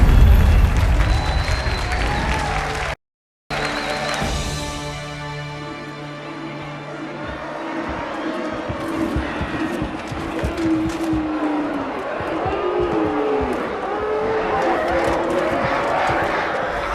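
A crowd cheers and applauds in a Halo 2 Anniversary cutscene, a steady roar of many voices that fills the scene after a brief dropout, with speech mixed in.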